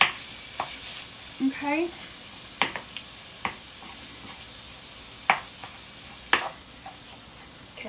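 Ground beef frying in a pan for stuffed green peppers and zucchini, a steady soft sizzle under occasional stirring clatter and scrapes, with a brief spoken word.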